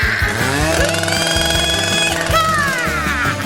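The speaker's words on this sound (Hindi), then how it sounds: "मुझे इसे काटने के लिए किसी विशेष औजार की आवश्यकता होगी, जैसे कि यह आरी। चलो अब काटती हूँ।" A saw grinds through a tall stack of layered food, a loud, harsh, continuous buzzing rasp with a rapid stuttering rhythm that runs throughout without pause.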